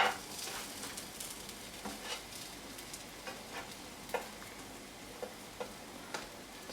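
Spicy kidney bean burgers fry in a pan with a steady close sizzle, punctuated by small irregular pops and crackles, no voices.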